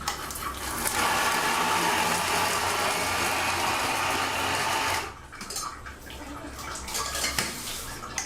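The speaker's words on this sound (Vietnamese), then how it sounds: "chỉ có một cái máy xay làm bằng motor máy bơm nước" A homemade-style grinder driven by a water pump motor whirs loudly while grinding meat with herbs and ginger, then cuts off abruptly about halfway, leaving quieter clattering room noise behind.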